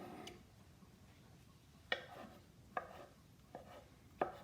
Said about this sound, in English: And we'll just chop these real quick.